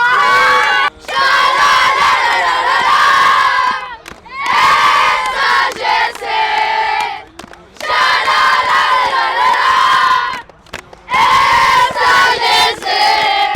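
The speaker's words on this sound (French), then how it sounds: "Et là vous pouvez aller gueuler dans la vestiaire." Under-12 football team shouting and cheering together in the changing room, a loud crowd of young voices roaring in repeated bursts separated by brief pauses.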